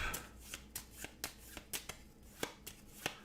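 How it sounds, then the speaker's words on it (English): A deck of game cards is shuffled by hand for a solo board game session. Soft, irregular riffling clicks and snaps sound close and quiet, with no voices. "we're just going to shuffle these up"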